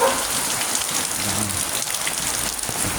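Heavy rain pours down steadily during a typhoon, a dense, continuous hiss of drops striking surfaces, close and loud throughout with no voices.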